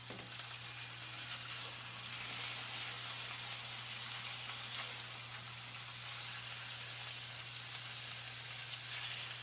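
Lamb loin sears in a hot pan with garlic and rosemary, giving a steady, dense sizzle and crackle that runs the whole time under a constant low hum, with no voices.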